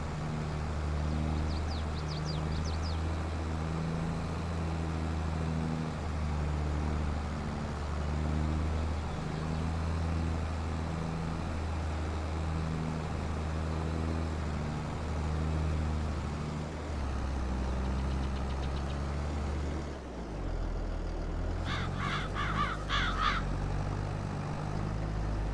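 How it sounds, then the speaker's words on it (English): Labouring tractor engine in Farming Simulator 22, a steady low droning hum with a strained, uneven tone, running continuously near and loud; a brief dip near the end gives way to a rougher revving burst. "the tractor definitely needs a service. It's struggling hard"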